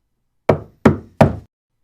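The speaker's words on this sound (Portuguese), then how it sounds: "ela foi espantada com uma forte batida na porta" Three loud, sharp knocks on a door, evenly spaced in quick succession, each with a short hollow decay, surrounded by silence.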